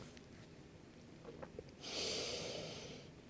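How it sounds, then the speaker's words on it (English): Deep breath during a men's yoga stretching session, a soft airy exhale swelling and then fading over about a second and a half, close and alone, after quieter rustling. "Breathing deeply, trying to release on the exhalations"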